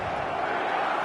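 Dense stadium crowd roar in the eFootball video game, a steady wash of cheering and chanting that fills the space without a break.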